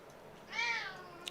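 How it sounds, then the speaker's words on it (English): A pet cat gives a single short meow, fairly faint and close, rising and falling over about half a second in an otherwise quiet room, followed by a tiny click. "Can you guys hear my cat there?"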